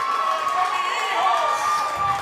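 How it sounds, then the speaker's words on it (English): A college baseball crowd cheers after a strikeout call in a stadium, a continuous roar of voices filling the space with sustained whistles, and no distinct announcer speech on top. "Now you heard the crowd pop after that one"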